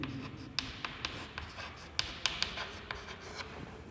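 Pen writing by hand on paper while building figures are noted in an accounts lesson, a close, quiet run of scratchy strokes and irregular taps over a faint steady background.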